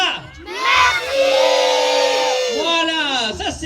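Children in an audience at a Christmas show in Gannat shout together in one loud, sustained collective yell lasting a few seconds, with high-pitched voices blending into a crowd roar that swells and then tapers.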